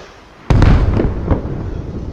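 An RPG-26 rocket launcher shot blasts in Arma with the RHS mod, a sudden loud boom followed by a rumbling, crackling tail with a couple of smaller pops, throwing up dirt.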